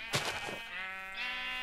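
A Minecraft sheep bleats once, a short wavering baa up close, then a second thinner bleat follows over a steady tonal game background.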